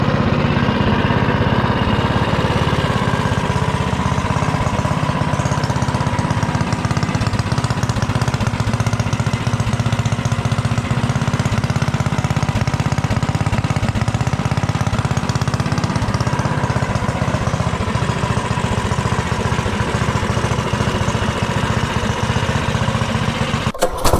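A modified B200 mini bike engine runs steadily and loudly up close, a rough, buzzing mechanical drone with a fast rhythmic chatter, holding a constant pitch throughout with no pauses.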